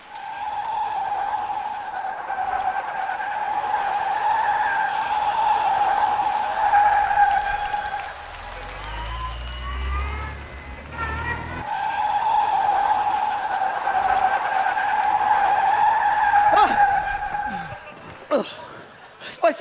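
A car brakes hard on a road, its tires skidding in a long, loud screech that fades and then rises again, with brief chuckling near the end.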